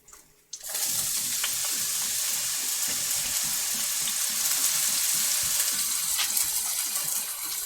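Chopped onion sizzles and crackles steadily in a hot skillet for a chicken burrito dish, a dense continuous frying hiss starting abruptly after a brief quiet moment, close and fairly loud.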